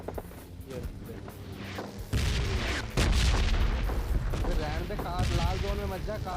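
Gunfire and heavy booms rumble from the red zone in PUBG Mobile Lite, a run of loud, irregular blasts and bursts with a voice talking over them.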